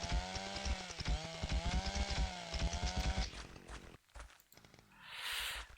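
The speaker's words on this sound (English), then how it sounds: "you had to turn off the chainsaw so that you didn't have to use fuel" A video game chainsaw roars loudly up close with pulsing, revving bursts for about three seconds, then drops to a sputtering idle before a softer rushing whir swells near the end.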